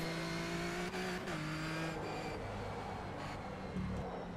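A Nissan 370z GT4 engine in the rFactor 2 racing sim drones steadily at a constant pitch, the revs dipping and shifting a few times as it drives, loud and close with no talk.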